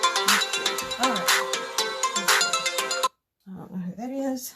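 Mobile phone ringtone ringing nearby, a bright repeating melodic tone pattern for about three seconds, then cut off, followed by a person talking.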